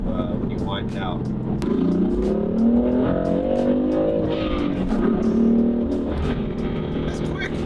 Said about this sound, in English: it's got a really good note to it when you wind it out